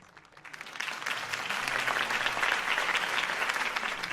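Crowd applause in Batman: The Telltale Series after a campaign speech for Harvey Dent, a dense burst of clapping that rises quickly and holds steady, loud and unbroken with no talk over it.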